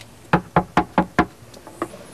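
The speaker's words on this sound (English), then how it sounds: "I knocked on her door twice" Knuckles rap on a door: five firm, evenly spaced knocks, then a pause and two softer, quicker taps, close and distinct against a quiet background.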